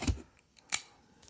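A blade slices open an Amazon shipping package in a couple of quick, crisp snips, with a soft thud at the start and faint rustling between cuts, close and fairly quiet.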